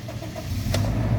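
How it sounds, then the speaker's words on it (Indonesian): A 2008 Toyota Kijang Innova 2.0 V automatic starts up: a short, loud crank that catches into a low engine rumble, all within about a second. "Sekarang kita coba nyalakan mobil."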